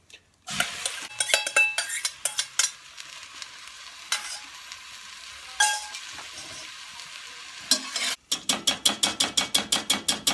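Bean mix going into a cast iron camp oven over a campfire, with sharp metallic scrapes and clanks of a utensil against the pot, a brief gap, then a fast rhythmic run of loud stirring knocks.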